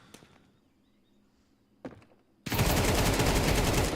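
AK rifle fire in Counter-Strike: a couple of quiet thuds and a sharp single report, then a loud, sustained burst of automatic gunfire from close by, running continuously to the end.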